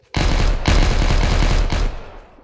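A gun in Minecraft fires a loud, fast automatic burst that cuts off briefly and resumes for a second volley, then stops, close and clear with no voices.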